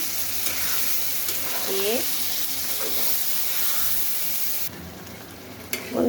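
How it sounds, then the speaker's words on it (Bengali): Calf brain masala frying in a pan, a steady broadband sizzle running throughout with brief scraping stir noises, close and fairly loud, easing slightly near the end; someone speaks briefly over it. "এই যে এইভাবে কিন্তু আমি মগজটা কষাচ্ছি।"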